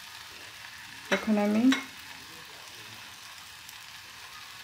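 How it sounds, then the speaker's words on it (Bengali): Cut okra hitting hot oil in a pan, a brief loud sizzle and stir burst over a steady background hiss, with a voice speaking briefly. "প্যানে যে তেল আছে সেই তেলের উপরে ভেন্ডি কাটাগুলো দিয়ে দিলাম"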